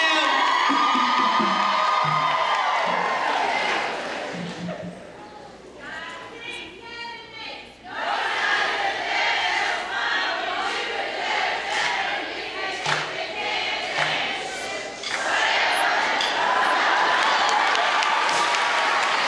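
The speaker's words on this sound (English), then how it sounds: "Northside Elementary, let me hear you yell." A crowd of elementary school students at a county school district convocation yells and cheers loudly, with bursts of shouting and clapping that dip and swell, and an announcer's amplified voice cutting in between.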